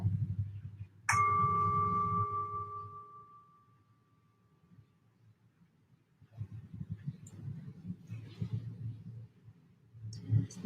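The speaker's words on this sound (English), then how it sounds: "Staying here and just listening to the sounds of the bowl." A single struck singing bowl rings out with a clear, sustained metallic tone that slowly fades over a few seconds, followed by low background rumble and faint clicks.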